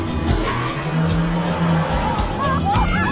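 A car brakes hard in a tense chase, with screeching tire squeal rising over a rumbling engine and a crowd-like babble of background voices through a continuous, loud scene lasting about three seconds.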